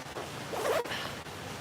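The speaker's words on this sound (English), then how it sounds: "The serious flaw with this jacket is the only way to fasten it is to zip the whole thing." A jacket zipper pulled up in one quick close rasp lasting about a second, alone without talk.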